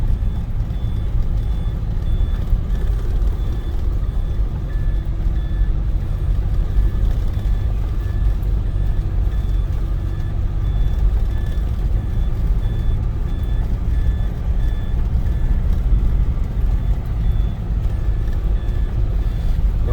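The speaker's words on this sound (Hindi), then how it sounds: "तो जब ड्राइवर के बगल वाला सीट बेल्ट भी ऑन होता है while a passenger is sitting on it, तो ये बीप की आवाज आने लगती है।" A seat belt warning beep inside a Gurkha driving on a mountain road, sounding as a regular series of short, evenly spaced tones over loud, constant engine and road rumble.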